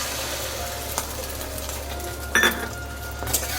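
Egg with onion and chili sizzles steadily as it fries in a pan, a close, even hiss with a few sharp metallic clinks of a utensil against the pan partway through.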